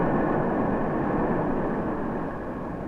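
A jet aircraft lands on the runway at Los Angeles International Airport, a steady loud broadband engine roar and rushing air that holds constant and fades slightly toward the end, with no voices.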